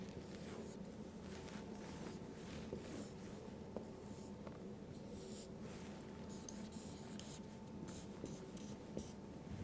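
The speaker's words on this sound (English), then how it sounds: "and then I draw thyroid" Pen drawing a thyroid gland on paper, a steady close scratching of the tip over the sheet that runs continuously with small pauses and strokes, low in level against a faint room hum.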